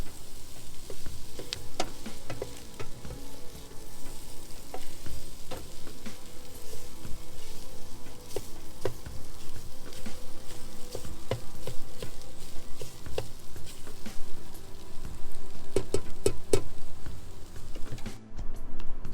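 Potatoes, green peppers, red onions and eggs fry in a PowerXL 12-in-1 air fryer used as a frying pan, giving a steady, close sizzle with crackling pops throughout.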